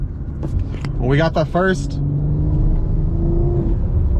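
A BMW M340i fitted with downpipes and an aftermarket exhaust rumbles low and steady while driving, as someone talks over it near the start.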